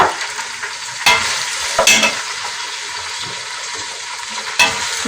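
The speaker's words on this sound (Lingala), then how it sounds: "nakotia dongo na ngai na kati ya mafuta" Okra fries in hot oil with a steady, bright sizzle, broken now and then by brief scraping stirs from a utensil in the pan.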